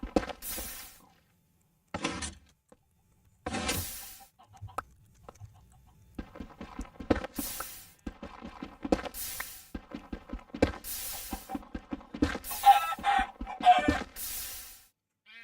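Chickens in the Skyblock video game cluck and squawk in repeated short bursts, some louder and close, others softer, coming faster toward the end, with no talk.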